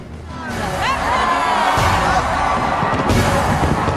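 A massive New Year's fireworks display at Dubai's tallest building, with continuous booming bangs and crackle heard from a distance under crowd noise and a voice talking.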